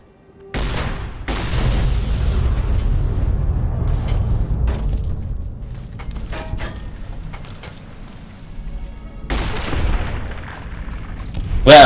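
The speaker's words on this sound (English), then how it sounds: "Use the shotgun." Shotgun blasts in Fallout New Vegas, a few heavy booming shots with dense rumbling tails, loud and close, separated by quieter stretches.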